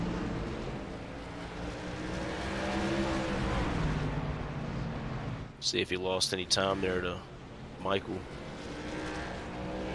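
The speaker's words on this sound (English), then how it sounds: "Huge gaggle of trucks right here." Racing trucks roar past in a sim racing truck series at North Wilkesboro, a loud continuous engine drone that swells and fades, with a commentator speaking over the second half.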